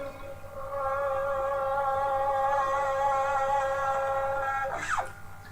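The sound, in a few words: electric guitar, 6th fret G string vibrato, volume swell fade-in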